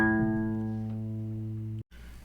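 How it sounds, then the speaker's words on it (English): A steel guitar string plucked once at middle A rings with a bright, sustained tone and a stack of overtones, fading slowly for under two seconds before cutting off abruptly. "So here, I'm plucking a middle A note, the same note as the tuning fork."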